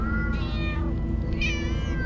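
Several cats meowing in the game Minecraft, two distinct drawn-out meows close and loud, one after another over a dense, steady game background.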